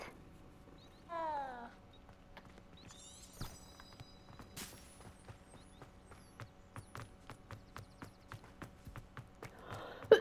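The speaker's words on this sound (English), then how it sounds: "Black cat." A black cat in the video game Hogwarts Legacy gives a short meow, followed by a steady run of soft rhythmic footstep-like clops under a quiet game background.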